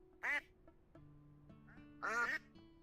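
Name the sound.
ducks quacking in a video game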